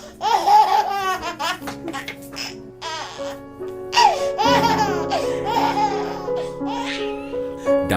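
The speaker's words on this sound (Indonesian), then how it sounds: "Suara bayi Sumatera." A Sumatran baby laughs and babbles through a run of squealing giggles and vocal bursts, close and clear, over a steady low background drone.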